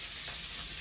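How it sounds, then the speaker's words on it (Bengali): Dried fish fries in a pan with a steady, soft, continuous sizzle, close and even throughout the short moment, with no talking. "শুটকি মাছ ভাজি হয়ে গেছে, নামিয়ে নিই।"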